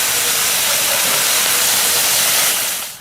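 Loud, broad steaming hiss as boiling water hits a hot wok of braising chicken feet in chili sauce, holding steady for a few seconds before easing off.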